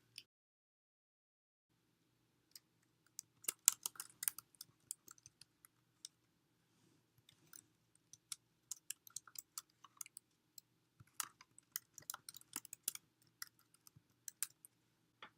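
A course number and name being typed on a computer keyboard: quiet, irregular clusters of sharp key clicks come in quick bursts with brief pauses, close and alone in a silent room.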